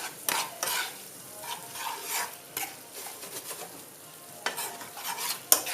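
Spinach leaves being stirred and wilting in a hot pan, a steady close sizzle broken by repeated scraping stirs, no voices.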